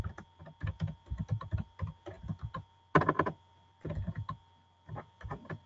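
Rapid computer keyboard typing in bursts, with clustered keystrokes, short pauses and one louder flurry of strokes, close up with no talking.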